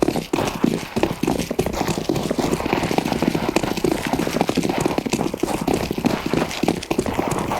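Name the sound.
footsteps in a video game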